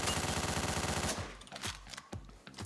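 Rapid automatic gunfire from the video game Hotline Miami, a fast continuous burst for about a second followed by a handful of scattered single shots and impacts, loud and close with no speech.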